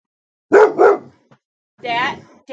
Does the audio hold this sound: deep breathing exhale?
no